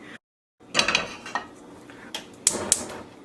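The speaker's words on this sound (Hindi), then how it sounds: "एक बड़ा बर्तन लें और ध्यान रखें कि उसका बेस जो है, नीचे का हिस्सा जो है वो मोटा होना चाहिए" A large heavy-bottomed pot is handled, giving several sharp metallic clanks and scrapes of cookware, close and fairly loud after a short silence, with no talking.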